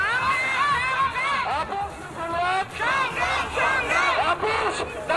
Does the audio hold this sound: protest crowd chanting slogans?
yes